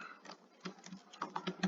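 Quick irregular clicks of typing on a computer keyboard in a Word tutorial, close and clear, with short bursts of keystrokes and no talking.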